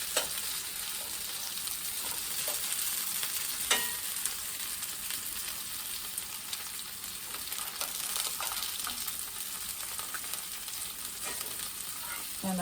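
Sausage sizzles and crackles steadily in a frying pan, a dense hiss with occasional pops and scraping stirs, close up and without talking.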